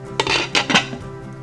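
A lid clatters onto a crock pot of cheesy ground beef and potato casserole, with a few short close metallic clinks and rattles before it settles into quiet.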